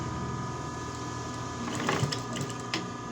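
A sewing machine stitches a fabric box bag, a steady low mechanical whir running throughout, with a few light clicks and handling knocks near the end.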